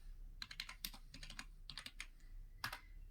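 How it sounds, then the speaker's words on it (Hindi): Computer keyboard keys clatter in quick bursts of typing with short pauses between words, close and crisp in a quiet room. "यहाँ टाइप करना है पासपोर्ट सेवा।"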